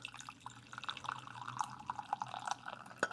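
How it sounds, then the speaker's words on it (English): Tea is poured into a cup, a faint, close trickle with light drips and a small clink near the end. "pour some tea."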